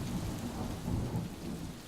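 A thunderstorm rumbles low and continuous under steady rain pattering on a surface, rolling thunder swelling and easing, with no voices.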